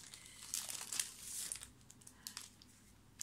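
Plastic packaging crinkles and rustles up close as envelopes and cards, sold in packs of eight with a slight metallic finish, are pulled out, in quiet irregular bursts.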